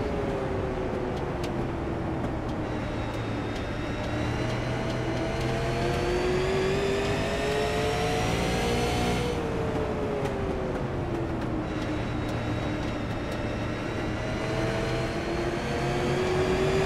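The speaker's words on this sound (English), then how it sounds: "Let these engines roar." Race car engines roar continuously at Stafford Motor Speedway during a SARA Tundra Super Series stock car race, loud and steady with harmonic engine tones rising and falling as cars accelerate and lift around the oval.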